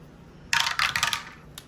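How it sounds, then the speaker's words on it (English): A small plastic D3 die tumbling and clattering across a hard surface in a few quick rattling bounces, close and crisp, then settling with a faint final tick; no talking. "we are rolling a D3 dice for this twice"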